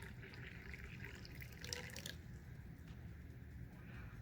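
Hot water pours steadily into a novelty slot machine mug, a soft continuous watery trickle and splash with faint drips, close and fairly quiet, with no talking.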